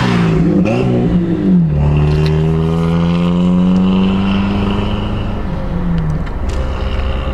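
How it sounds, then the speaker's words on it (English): A vehicle passes along the road near a rural Spartanburg property, its engine droning loudly and shifting in pitch as it goes by, with steady engine hum filling the whole stretch and no talking. "I do have some traffic behind me. Let me let those by."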